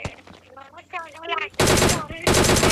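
Rapid bursts of automatic gunfire from behind in a military base area of a shooter video game, loud and close, coming in two dense volleys after a stretch of other game sounds.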